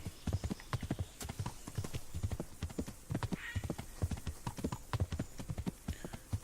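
Hooves of a galloping horse named Pebbles in Kingdom Come: Deliverance thud in a fast, steady rhythm, loud and close, with faint snorts between strides.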